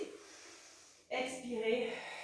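A deep inhalation during a Pilates breathing exercise focused on rib-cage breathing, an abrupt, close breathy intake that swells after a quiet pause and holds steady for about a second.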